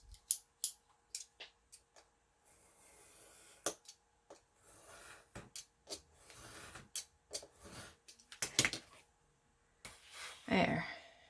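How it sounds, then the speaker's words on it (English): Scissors cut a small piece off the bottom of an item, giving a string of crisp, close snips in an irregular rhythm with short quiet gaps between the cuts. "I'm going to cut this little piece off the bottom"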